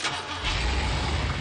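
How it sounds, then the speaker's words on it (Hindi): A truck engine cranks on the key and catches, settling into a steady, rumbling idle with no voices over it. "चाबी घुमाई और स्टार्ट।"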